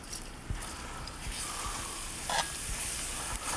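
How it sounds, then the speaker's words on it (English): Garlic sizzles in a pan as a spatula stirs it, a steady close frying hiss broken by scraping taps and a few sharper clacks, with no voices. "First thing we're going to do is saute the garlic."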